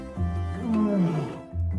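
A lion in an animated Bible story lets out a deep, loud roar with a rising and falling growl, close and alone, trailing into a second low rumble.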